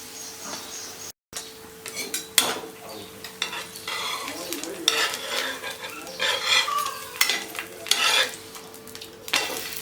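A snack of moong dal and rice batter frying in a little oil in a pan, giving a continuous sizzle broken by frequent utensil scrapes, clinks and stirring knocks close by.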